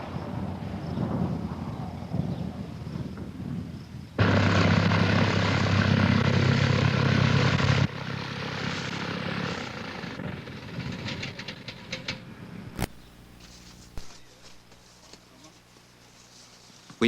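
A light propeller aircraft engine drones steadily while the plane maneuvers near a short, obstacle-lined remote runway in Honduras, swelling to a loud, dense roar for several seconds before easing back and fading to a low hum.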